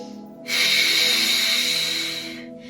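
One long, audible breath is pushed out through the nose or mouth during a wide-legged hip stretch, with a close, breathy hiss lasting about two seconds between quieter moments.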